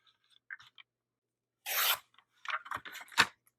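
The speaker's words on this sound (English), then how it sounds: "we're gonna trim this cardstock" Old, wrinkled cardstock being trimmed for a junk journal: a close, dry rasping cut with a brief burst, then a run of short scratchy snips and rubs, no talk.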